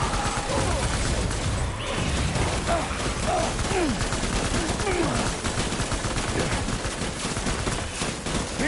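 Gunfire in the Death Stranding video game rattles as dense, continuous bursts of shots layered with mechanical clatter and crashes, loud and unbroken, with faint voices mixed in.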